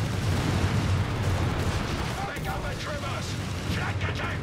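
Matilda tank firing in the strategy game Company of Heroes 3, a dull booming shot buried in dense battle noise of explosions and gunfire, with a commentator talking over it.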